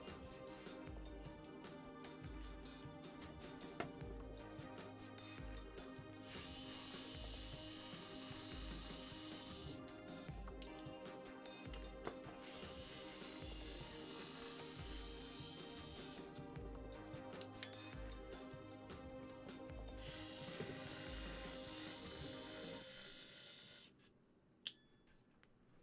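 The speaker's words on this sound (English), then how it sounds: "Is it wise to use a power screwdriver?" Power screwdriver backing screws out of a circuit board, a steady whirring drive with ratcheting clicks running continuously for about twenty-three seconds, close and fairly loud, then cutting off into near quiet.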